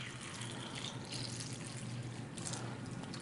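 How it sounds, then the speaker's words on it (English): Tap water pours into a bag of tomatoes for rinsing, a steady close splashing gurgle with no voices. "we're just going to simulate that by pouring some tap water in here"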